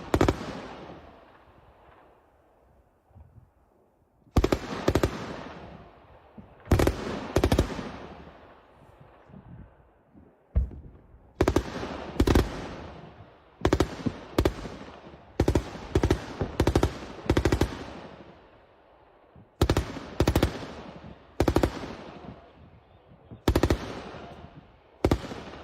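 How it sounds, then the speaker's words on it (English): A 23mm Gsh cannon on a Ukrainian MTLB fires at Russian targets in repeated sharp bursts, each a rapid string of loud, booming shots followed by echoing decay, with short gaps between salvos. "a Ukrainian MTLB with a 23mm Gush cannon shooting at Russian targets"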